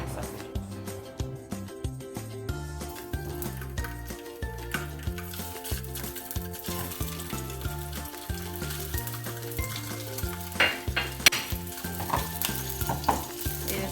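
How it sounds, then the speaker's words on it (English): Sausages fry in a small skillet over medium heat, a steady crackling sizzle with pops and spatters that continues throughout, with no talking. "I'm going to be frying my sausages."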